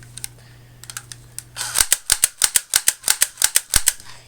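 JLS P99 airsoft pistol firing full-auto with blowback, a steady rapid string of about fifteen crisp plastic clacks at a fairly slow cyclic rate, close and loud after a few light preliminary clicks.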